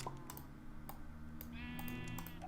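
Sheep in the Forever Stranded game bleating in a short wavering cry, mixed with light clicking taps, all fairly quiet.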